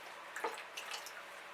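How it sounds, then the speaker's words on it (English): Water is poured onto moss topping a Phragmipedium orchid pot, giving a faint, brief splash and a few soft drips within a second or so. "So I give this one lots of water on the top"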